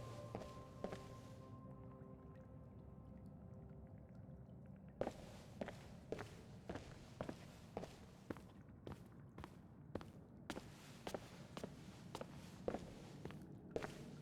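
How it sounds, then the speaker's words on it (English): Footsteps in Skyrim tread steadily across a quiet scene, soft at first, then a long series of distinct, evenly paced thudding steps from about midway on, over faint ambient background with no talking. "You can hear the footsteps"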